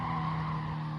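Car tires skidding and squealing under late braking in the Gran Turismo Sport racing game, a sustained loud screech with a steady tonal whine over engine noise, no talk.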